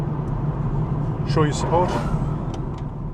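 Car driving along a road past an airport, a steady low engine and road rumble running throughout while someone talks over it from inside the vehicle.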